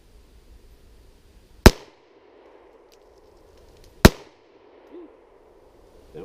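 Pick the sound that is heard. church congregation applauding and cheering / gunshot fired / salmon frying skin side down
gunshot fired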